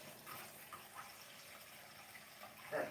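Tap water running steadily into a kitchen sink while dishes are rinsed, a quiet continuous splashing hiss with a brief louder gush near the end.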